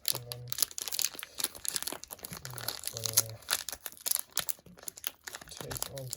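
Tape is peeled and torn off the crinkly packaging of a Moyu RS2 M 2020 2x2 magnetic Rubik's cube, with close, repeated ripping and crumpling bursts and scattered brief voice hums.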